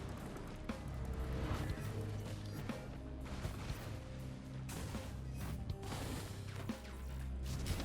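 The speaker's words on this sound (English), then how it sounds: "Guillotine printer." Mechanical whirring and clanking of a guillotine printer in Risk of Rain 2, a steady dense grinding with repeated ratchet-like clicks and metallic knocks over nearly eight seconds under game sound.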